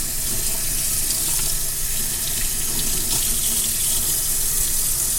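A fish stomach is rinsed out under a running kitchen tap, the water pouring in a steady, loud, unbroken rush for the whole stretch.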